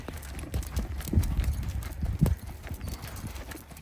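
Tennessee Walking Horse moving in a saddle gait, hooves beating a quick, even four-beat clip-clop on the ground, steady and fairly close, with no talking.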